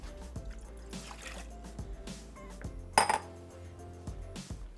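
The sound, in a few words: water being poured into a pan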